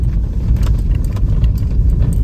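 A small car's engine strains steadily up close as it tries to climb a snowy, icy patch in freezing Nako village, Himachal Pradesh, with a dense low rumble and faint jingling above it.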